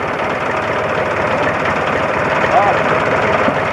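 A tractor engine runs steadily while lifting a full onion crate, a constant close, low rumble with a rhythmic knock, under a man's speech.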